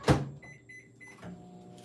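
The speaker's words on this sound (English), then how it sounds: "It's a little bit thick, so I'm gonna pop it in the microwave." A microwave oven melting white chocolate: a door thump, then a few high electronic beeps as the timer is set, followed by a low hum as the oven starts.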